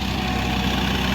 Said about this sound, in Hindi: और आप ट्रैक्टर की आवाज़ सुनो।